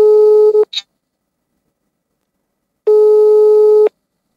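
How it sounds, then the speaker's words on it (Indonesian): A telephone call tone sounds while a guest is being dialed: a loud steady beep, a long silent gap, then a second beep of about a second, with no voices. "di segmen yang kedua ini kita hubungi Ustaz Roshid"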